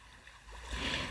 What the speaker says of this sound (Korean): 물소리 조금 더 들려드리면서 오늘 영상은 여기서 마칠게요